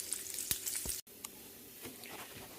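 Bacon frying in grease in a pan, giving a steady, fairly quiet sizzle and crackle with a few sharper pops, briefly cut off about a second in before it carries on.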